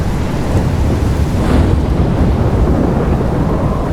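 Storm with steady heavy rain and wind roar and low rumbling thunder swelling around the middle, loud and continuous throughout with no talking.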